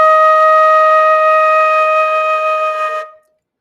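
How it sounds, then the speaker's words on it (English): A single sustained E flat on a flute, held steady for about three seconds and then cut off cleanly, played alone with a clear, pure tone. "and I've got my E flat"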